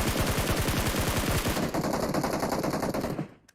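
Rapid automatic gunfire in the video game PUBG Mobile, a fast rattling burst of shots that continues steadily, then cuts off abruptly at the end.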